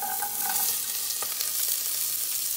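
Mirepoix hits a hot roux for espagnole sauce with a dense, steady sizzle, broad hissing frying noise close up, with a few faint clinks of a utensil and no talk.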